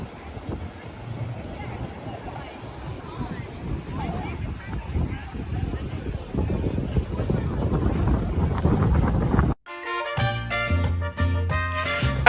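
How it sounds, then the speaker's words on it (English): Steady wind buffeting the microphone at a beach club during a cruise stop, a broad rushing noise with faint voices in the background before music cuts in near the end. "enjoying this breeze"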